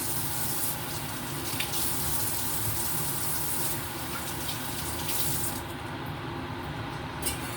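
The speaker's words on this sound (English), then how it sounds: "Make sure I wash these fruits properly" A kitchen tap runs steadily into a sink while fruit is washed, a constant close rush of water with slight shifts in flow and faint splashing, no talking.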